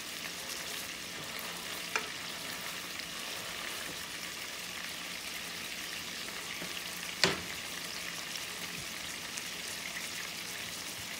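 Smashed burger patty frying in a pan, a steady close sizzle throughout with a couple of sharp clicks or taps from a utensil.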